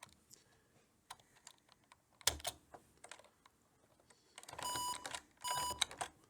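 Key presses on a computer keyboard driving an emulated DOS gaming PC: sparse, faint clicks scattered across several seconds, then one sharp tap and two louder, longer bursts of clatter near the end.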